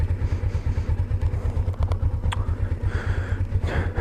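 A motorcycle engine putters at low revs, a steady throbbing idle with a light rattle and slight changes in pitch as it rolls slowly around a driveway, fairly close with no talking.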